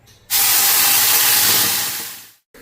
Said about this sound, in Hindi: तो तेल गरम होने के बाद में टमाटर और लहसुन का जो पेस्ट था बस उसको मैंने डाला है